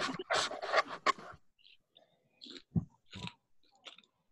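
Someone munches on Popcorners chips close to the microphone, with a quick burst of loud crunchy bites followed by softer, sparser chewing and mouth sounds.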